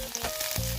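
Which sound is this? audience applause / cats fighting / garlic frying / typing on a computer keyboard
garlic frying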